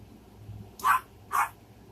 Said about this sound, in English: my dog was barking at something